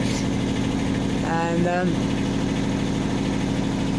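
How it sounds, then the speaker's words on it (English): A boat's engine idles steadily in a low, even rumble, close and constant, while a person talks over it. "thank God the engine's up and running in case we ever did have to move"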